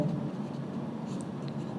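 Chalk or marker scratching steadily on a board during a maths lecture, a continuous dry scraping with no voices.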